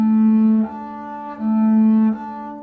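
Acoustic double bass sounds a tuning interval, the A on the D string alternating with an open string, two sustained bowed or plucked tones trading back and forth, clear and close with no talk.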